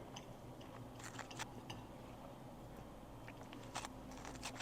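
Someone chewing and biting into juicy meat, a steady run of soft wet crunches and clicks close to the mic, quiet throughout with no talking.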